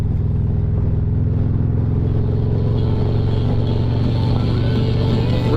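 A car with a newly installed Hertz SX 165 NEO speaker system accelerates up to highway speed, its engine rumble building steadily with road and cabin noise throughout, loud and continuous with no voices.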